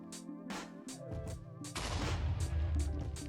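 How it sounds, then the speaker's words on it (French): An overfilled bread machine blowing up in Minecraft, a sudden loud explosive burst with a heavy low rumble that follows brief game sounds and keeps booming to the end. "Donc par contre si vous faites deux clics droits sur la machine à pain, elle sera trop remplie et elle va exploser."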